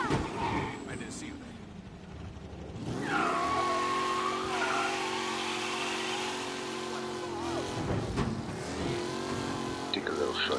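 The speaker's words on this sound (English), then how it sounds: "Officers reporting a race car driving at speed through the city." A race car speeds through city streets in Mafia Definitive Edition, its engine revving and surging with gear changes and brief tire skids, loud and close, with a voice talking partway through.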